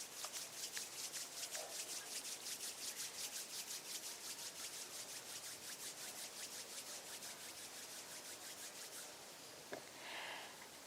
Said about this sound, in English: just gently rub the palms of your hands against each other